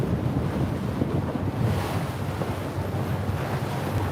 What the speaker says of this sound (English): Some rough water headed towards the paddlers here.